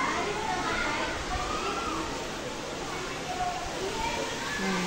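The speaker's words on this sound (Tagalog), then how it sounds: "Ang ingay ng mga bata." Children play and shout at a hotel swimming pool in Clark, Pampanga, a constant dense wash of distant voices and splashing water filling the air without pause.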